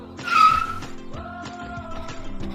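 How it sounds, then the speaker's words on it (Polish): Car sound effect in a children's reading lesson, a vehicle approaching with a rising engine and brief tire-squeal swell, then steady tonal hum as it passes close by, ending abruptly. "Tak, to jest auto."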